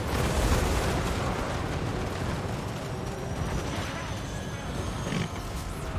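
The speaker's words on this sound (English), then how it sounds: "Our rockets have continued to fire." Rockets fire continuously across a Total War Warhammer 2 battlefield, a dense, unbroken roar of blasts and booms with loud, sustained battle noise throughout.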